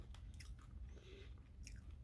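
Close, quiet crunching and chewing of dense seeded organic crackers with flax seeds, a few crisp bites over soft chewing.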